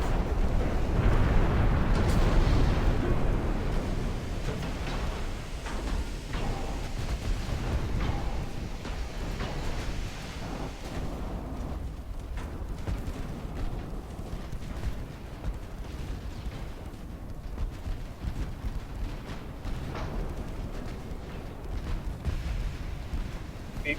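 Naval artillery fire during a battleship engagement in the game Ultimate Admiral: Dreadnoughts: dense, continuous booming rumble, heaviest at the start and then settling into a steady roar with scattered sharper blasts.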